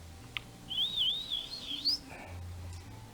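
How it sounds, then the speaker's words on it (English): A thin, wavering high whistle from a mountain hawk calling far off, a single drawn-out cry rising and falling over a low hum and faint outdoor background. "There's a mountain hawk up in the distance up there."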